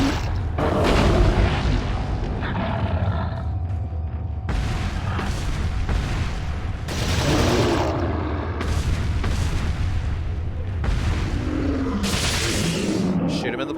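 Gunfire in the Resident Evil 4 video game, a string of loud booming shots spaced a second or two apart over continuous game sound, with someone talking throughout.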